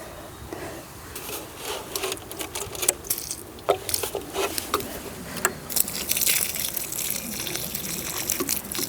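Water is poured into planting holes in a garden bed, splashing and trickling irregularly with sharp bursts and gurgles, growing louder and more continuous toward the end, with no talking.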